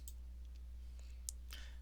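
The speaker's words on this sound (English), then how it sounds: "You could do so by clicking this change button on here" Faint, quiet mouse clicks on a software button, a few soft isolated ticks over a low steady hum.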